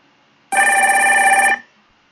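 A single telephone-style ring from an incoming 911 call on an emergency dispatch system, one steady, bright electronic tone burst lasting about a second, loud and close, with no talk over it.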